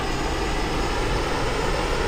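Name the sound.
Messerschmitt ME 262 jet engine from a flight video game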